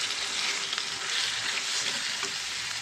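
Chicken fry sizzles steadily in a pan over a low flame while it is stirred, a dense, even crackle of hot oil with occasional scraping, close and continuous with no voices.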